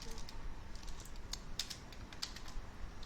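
Quick clicking keystrokes on a computer keyboard while coding JavaScript, a soft irregular patter of taps with a couple of louder presses, close up and without talk.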